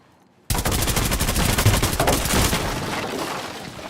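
Rapid automatic gunfire from Rainbow Six Siege bursts in suddenly after a short silence, a loud, dense string of shots that fades into a ringing decay.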